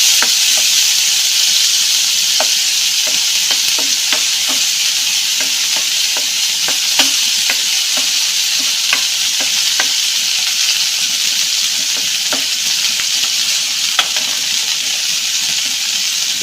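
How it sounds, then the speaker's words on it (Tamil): Fish pan-fries in hot oil for fried rice, giving a steady, loud bright sizzle with scattered small pops and crackles throughout, with no talking. "இந்த மாதிரி பேன் ஃப்ரை பண்ணாலே போதும்."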